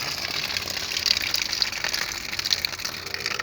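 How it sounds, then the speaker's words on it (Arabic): Water gushing steadily from an outdoor tap at an old cemetery in Turkey, a continuous close hiss and splash with no pauses. "هاي يعني الحنفية مال المي"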